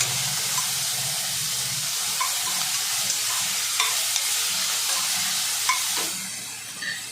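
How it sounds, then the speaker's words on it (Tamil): Five tomatoes sauté in a hot pan for tomato rice, giving a steady, loud sizzle and hiss with occasional stirring scrapes and pops, heard close and without talk. "இப்போ ஒரு 5 தக்காளி. இது நல்லா வதங்கணும்."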